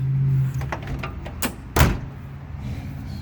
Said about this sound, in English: let me show you the door. Although it's rusted out, closes pretty good